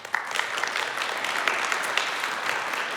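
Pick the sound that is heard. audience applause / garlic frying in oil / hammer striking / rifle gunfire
audience applause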